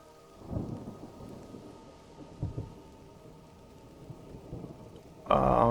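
Thunderstorm in the video game Mind over Magic, with steady rain and low rumbles of thunder swelling at intervals, then a loud crack of thunder bursting in at the very end.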